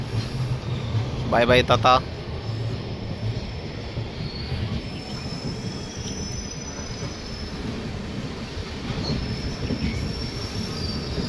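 Golconda Express pulling out of Vijayawada Junction, a steady rumbling rail roar with faint wheel squeal that continues throughout; a voice briefly speaks near the start over the train noise.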